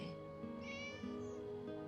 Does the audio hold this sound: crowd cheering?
no